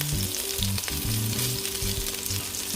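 Pre-cooked meatballs brown in a hot pan for meatball soup, giving a steady close sizzle and crackle, with occasional soft scraping and stirring against the pan, and no talking.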